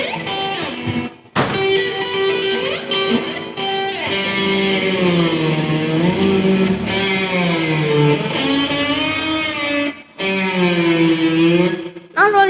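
Electric guitar played through effects with distortion, its open G string bent downward by a whammy-bar dive, giving a sustained, loud harmonic-rich tone whose pitch sags and wavers over about twelve seconds, with brief breaks near the start and end.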